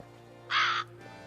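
A single harsh crow caw sounds out in The Witcher 3: Blood and Wine, loud and close, lasting about a third of a second over a low, steady ambient hum.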